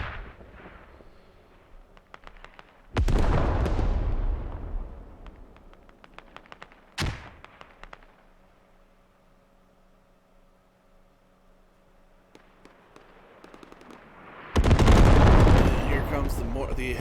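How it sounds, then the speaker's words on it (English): A heavy artillery strike in Squad: big booming impacts land several seconds apart, each a loud rumbling blast that decays slowly, with distant crackle and a voice talking over the quieter gaps. "The heavy artillery strike."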